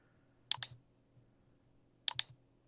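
Two quick pairs of computer mouse clicks sound close and crisp against a quiet background, spaced about a second and a half apart, during use of QuickBooks Online.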